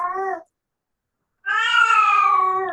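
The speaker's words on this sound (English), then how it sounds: "As you can hear my cat" A house cat gives two close, clear meows: a short one, then a pause of about a second, then a longer drawn-out cry.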